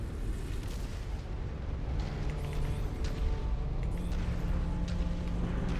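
Incoming missile explosions in the MechWarrior 5 video game, a continuous heavy roar of blasts and rumbling booms that stays loud and dense throughout.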